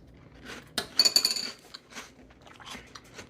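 A mouthful of Cap'n Crunch Crunchberry cereal with milk chewed close to the microphone, giving irregular crisp crunches and a brief clink of a spoon against a bowl, all fairly quiet with no talking.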